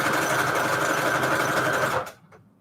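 Sewing machine running zigzag stitches through shabby chic fabric and lace scraps on manila tags, a loud, steady mechanical whir for two seconds that stops abruptly, followed by faint handling noises.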